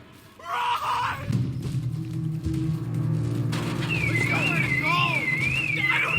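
A warbling, siren-like alarm from the PS1 horror game Spectral Mall rises and falls repeatedly over rumbling game sounds in its second half, while someone talks over it.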